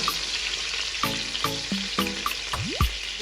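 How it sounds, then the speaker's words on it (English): Chicken pieces fry in hot oil in a pot for jollof rice, with a steady close sizzle running throughout and a few clinks and scraping knocks of a utensil over it. "I'll be frying this for exactly 3 minutes and then flip the other side and keep frying."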